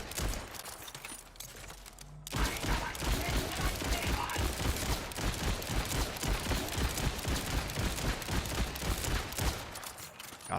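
A rapid-firing weapon in the looter-shooter Borderlands chatters in a dense, unbroken stream of shots, loud and up front, starting after a brief quieter lead-in and running nearly to the end.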